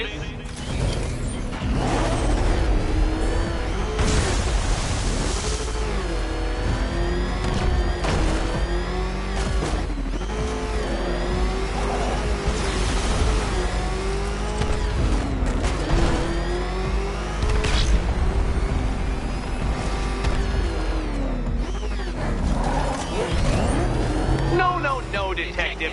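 Rough, sputtering car engine from a Batman Arkham video game, a ramshackle motor driving steadily and loudly throughout, its tone rising and falling with mechanical creaks, under game dialogue.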